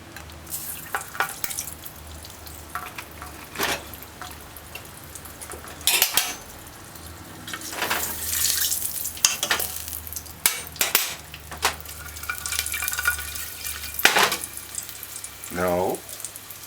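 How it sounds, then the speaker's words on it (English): Cooking oil goes into a pot for tripe and beans, with a soft sizzle beneath clinking utensils and pot knocks scattered throughout. "Add 1/4 cup of cooking oil."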